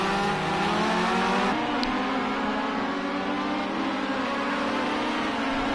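RX2 rallycross race cars racing at Lydden Hill, a loud sustained engine drone with shifting revs and a gear change partway through, the pack roaring close and continuous.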